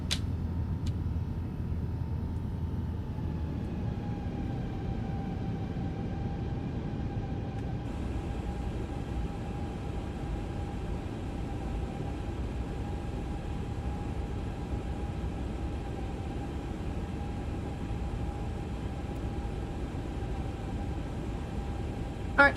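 An airliner's engines spool up in Microsoft Flight Simulator 2024, a steady loud roar with a rising whine that settles into a sustained tone and holds throughout, with no talking.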